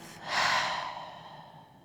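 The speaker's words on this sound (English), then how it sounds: "a deep breath in through the nose, and a breath out the mouth" Single slow breath taken in through the nose and let out through the mouth during a yoga stretch session, a soft airy whoosh that swells quickly and then fades gently, close and alone.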